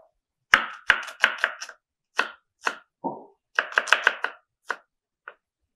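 A knife chops zucchini on a board, making crisp close taps in quick bursts with brief pauses between them.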